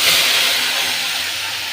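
Spice paste with onion, chili, whole garam masala and black cumin hitting hot frying oil for a tilapia kalia, a loud, steady broadband sizzle that fades only slightly across the clip, with no voices.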